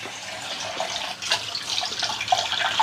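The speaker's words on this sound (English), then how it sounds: "let me wash that off" Tap water runs steadily into a sink while a tool is rinsed off, a continuous close splashing hiss with small bursts of spatter and no talking.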